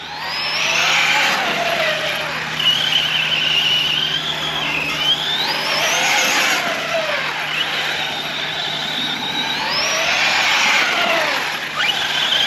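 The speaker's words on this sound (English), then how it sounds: "That's full trigger from a dead stop." Arrma Big Rock 6S RC truck at full throttle from a standstill, its electric drivetrain whining and rising in pitch in repeated loud surges, close to the listener.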